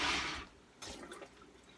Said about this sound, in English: Now I'm going to wash my hands.